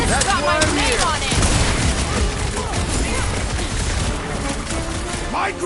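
Dense rapid gunfire from the Guardians of the Galaxy video game, a continuous loud barrage of shots and impacts with game voices talking over it throughout.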